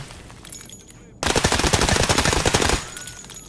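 Video game shooter gunfire: a rapid automatic burst of loud, close shots lasting about a second and a half, preceded and followed by quieter background sound.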